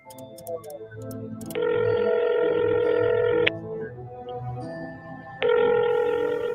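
Telephone tones from a payphone call being placed, with a steady electronic tone holding for about two seconds, dropping away, then returning, over low background murmur.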